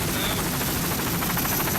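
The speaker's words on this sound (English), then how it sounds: "There's the medics helicopter right at the scene now to see what the problem is." A medics helicopter hovers over a boat crash scene, its loud continuous rotor roar and pulsing chop filling the air with no pause.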